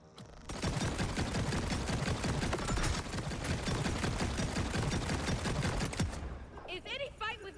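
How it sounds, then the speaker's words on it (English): Sustained rapid automatic gunfire in the video game Borderlands 4, dense rattling bursts running nearly continuously for several seconds, then stopping abruptly before a short trailing sound. "Who's shooting at me?"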